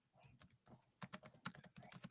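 Bursts of quick keystrokes on a computer keyboard, clicking in short irregular runs with brief pauses between them, close and fairly quiet.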